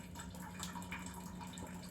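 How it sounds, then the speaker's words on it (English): Leftover water from cooked ramen noodles poured into a sink makes a steady, continuous splashing stream, faint and unbroken, with no talking. "You just want to gently pour it in the sink"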